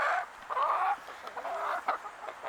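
Rhode Island Red hens clucking inside a backyard coop, a steady run of close, chattering clucks and short squawks with no voices.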